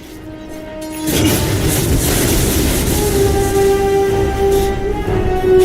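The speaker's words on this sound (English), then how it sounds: "Radiant's middle tower has been destroyed." A middle tower collapsing in a Dota 2 match: a sudden loud crash followed by a sustained heavy rumble and ringing tones that continue for several seconds, with no voices.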